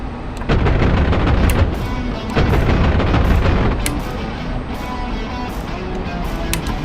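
Rapid aircraft gunfire from a strafing run in a propeller-plane combat video game, a loud continuous mechanical rattle layered with booming impacts and sharp bursts throughout.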